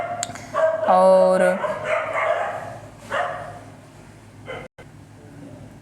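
Dogs bark and whine outdoors in the background, a few yelps rising over a man lecturing in Hindi, then fading to faint, scattered noise.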